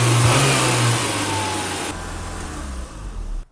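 A 39-year-old BMW E30 engine runs at a stubbornly high idle, a steady close mid-pitched drone that holds throughout, with a slight rev change midway and a low hum settling toward the end before it cuts off.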